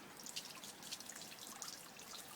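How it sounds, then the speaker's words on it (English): Cold water runs steadily from a hose attached to a tap, a faint continuous splashing trickle with small drips, no voices. "the hose is just attached to my taps, and it's constantly running cold water"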